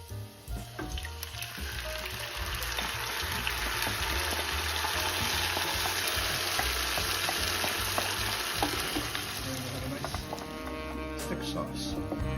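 Pizza sauce sizzling in a hot pan, a loud, continuous frying hiss with occasional stirring scrapes, close and steady throughout, while a voice talks at intervals.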